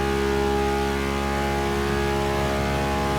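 A Ferrari supercar engine in the racing game The Crew Motorfest holds a steady, loud, dense mechanical roar with strong harmonic whine, continuous and close throughout.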